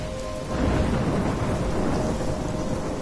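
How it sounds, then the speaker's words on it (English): A forest thunderstorm in the video game Life is Strange: dense, steady rainfall with a deep rumble of thunder that swells after a brief moment and stays loud, with no voices. "I'm trapped in a storm?"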